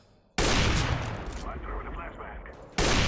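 Rapid bursts of loud gunfire from Counter-Strike: Global Offensive, a dense sustained volley followed by another sharp burst at the end.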